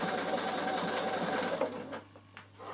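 A sewing machine stitches onto plastic, a fast steady whirring hum that runs continuously before slowing and stopping near the end, with no talking.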